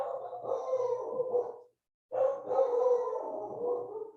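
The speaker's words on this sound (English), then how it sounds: "The dogs are going crazy." Several dogs bark and yowl excitedly indoors, a busy overlapping chorus broken by a brief silent gap, fairly close and loud.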